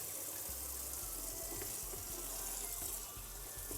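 Hot water pours steadily from a tap into a basin in a darkroom setting, a continuous hissing gush at moderate distance with no talk.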